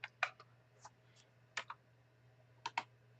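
Sparse keystrokes on a computer keyboard, close and quiet, coming in small clusters of two or three clicks with pauses between, over a faint steady hum.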